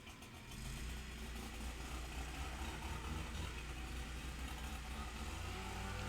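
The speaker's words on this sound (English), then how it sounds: "Not sure why he's starting with the blower." A leaf blower runs outdoors with a steady, loud mechanical drone that kicks in after a brief start and holds unbroken throughout, with no one talking over it.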